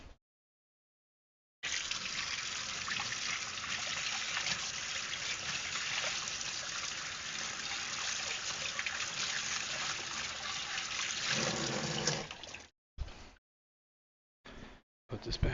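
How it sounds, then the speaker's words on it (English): Water trickles and runs steadily for about ten seconds while something holding fish fry is rinsed, a close hissing flow that stops abruptly, followed by a few short bursts of water and handling noise. "Rinse this real quick."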